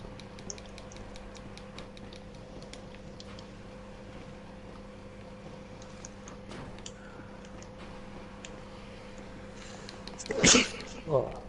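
A single sharp sneeze breaks out near the end over a steady electronic hum and faint ticking clicks during a GTA 5 Online session on PS4, followed by a smaller burst just after.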